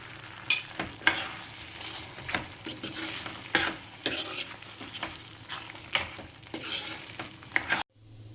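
Ghee spooned over hot cashew masala in a pan, sizzling softly while a spoon stirs and scrapes against metal in uneven clicks and rattles, close and steady with no talking, ending abruptly.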